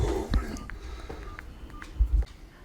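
Short electronic dialing tones from a telealarm home-assistance phone automatically calling its assistance centre, faint beeps in quick succession while people talk quietly close by.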